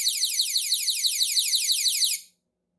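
A 360 solar scarecrow sounds its alarm indoors in a darkened kitchen, a loud, piercing warbling siren that holds steady for about two seconds and then cuts off, close by with no talk.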